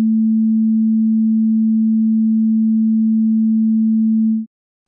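A steady 221 Hz pure sine tone, loud and unwavering, holds for about four and a half seconds and then cuts off abruptly into silence.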